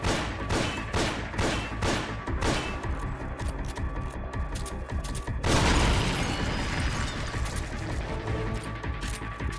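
Rapid bursts of .45 pistol gunfire in Metal Gear Solid V, a run of sharp loud shots followed by a heavier booming blast and rumbling debris.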